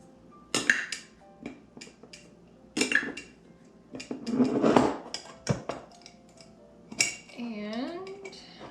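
A half-cup measuring spoon scooping almond flour from a jar, with sharp, close clinks and scrapes of metal against the container in irregular bursts, then a rustling flurry near the end.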